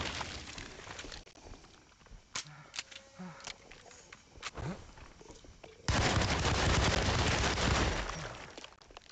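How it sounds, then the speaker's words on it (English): Automatic machine gun fire from the horror game Alone in the Dark: scattered short bursts and single shots, then a long, loud sustained burst near the end, with a voice talking now and then. "Oh yeah, machine gun."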